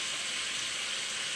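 Garlic sautéing in a pan gives a soft, even hiss and crackle that holds steady for a brief moment, close and quiet with no talking.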